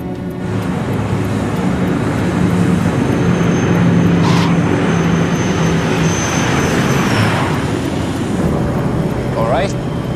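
A fixed-wing aircraft rolls down the runway at Aberdeen after landing, giving a steady, loud broadband roar of engines and rushing air with a few brief higher whines, continuous throughout.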